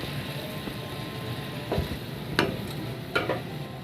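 Finely chopped green chilies go into a hot pan for a fasting-day dish and fry with a steady low sizzle, while a few clinks and scrapes of stirring come through at close range.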